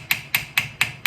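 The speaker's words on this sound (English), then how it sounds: "So I'm going to take this and kind of hammer it, and it's stretching it a little bit." Sheet metal being hammered to stretch and texture it: five sharp, ringing metallic strikes land at a steady, even rhythm, close and loud, each with a short decay.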